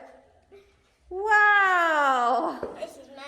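A cat gives one long, loud, drawn-out meow at close range, its pitch sliding slightly downward, following a few soft sounds and a brief faint vocal fragment.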